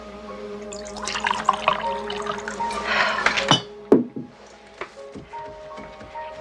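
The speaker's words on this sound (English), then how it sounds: "Here, let me pour another one." A drink is poured into a glass after a spilled toast, a liquid trickle lasting a few seconds, then a clink and a couple of light knocks with quiet gaps between them.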